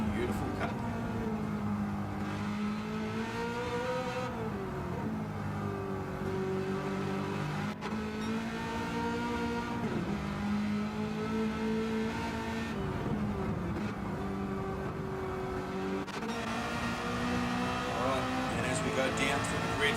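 Sim-racing V8 Supercar heard from on-board at Road Atlanta in a game, its engine note loud and continuous, rising and falling through gear changes and braking, with a commentator talking over it.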